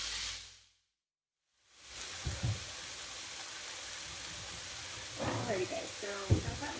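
Pork for green chile sizzles in a hot pan, a steady broad hiss that cuts out briefly and returns, with occasional soft clinks and pops.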